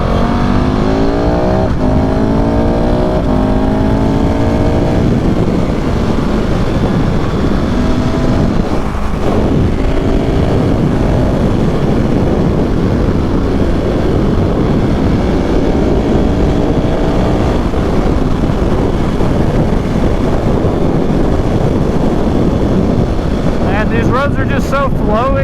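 A KTM 690 SMCR motorcycle engine drones steadily while riding on back roads, with loud wind buffeting throughout and rising and falling rev sweeps; a voice talks briefly over the engine.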